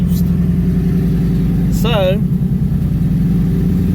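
A 2019 twin-turbo Ford Mustang engine holds a steady, loud, deep rumbling high idle throughout, with a brief whistling chirp near the middle and a single short spoken word over it.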